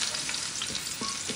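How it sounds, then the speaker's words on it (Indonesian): Shallots and garlic fry in hot oil in a wok, giving a dense, even sizzle with faint clicks and shuffles of stirring underneath, fairly quiet and close. "Kalau sudah panas, kita mau tumis bawang merah,"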